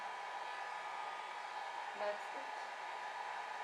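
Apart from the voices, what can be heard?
hair dryer blowing on alcohol ink painting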